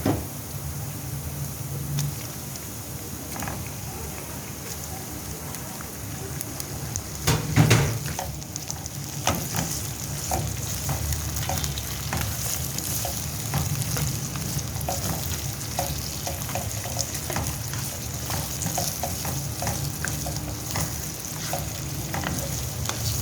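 Chicken pieces go into garlic frying in a pan and set off a steady sizzle. It runs the whole time, with a bump when the meat lands and occasional stirring clinks and scrapes.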